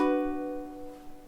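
A ukulele chord barred across the second fret rings out as one sustained strum that slowly decays, close and alone.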